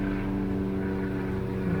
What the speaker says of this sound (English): Hold on, because there's an airplane.